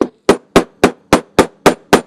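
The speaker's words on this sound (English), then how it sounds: "You're going to hammer it." Hammer blows land on a rubber block in a steady, evenly spaced series of eight sharp, close knocks, each ringing briefly before the next.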